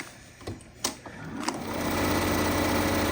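A sewing machine runs steadily while stitching fabric strips for a scrappy rectangle string quilt block. A few light clicks and taps come first, then the motor settles into a continuous close hum.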